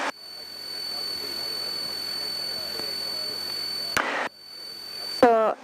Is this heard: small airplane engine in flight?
yes